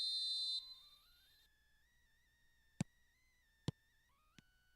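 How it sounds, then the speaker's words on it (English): Referee whistle in PES Mobile: a long, shrill blast with wavering tones opens the clip, then fades to a held tone over quiet crowd ambience, broken by several short, sharp clicks. "There's the whistle and here we go."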